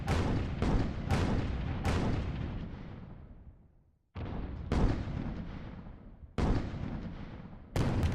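Airship cannons fire during a video game battle as a string of heavy booms. About six blasts land at irregular intervals, each hitting hard and trailing off in a long rumbling decay.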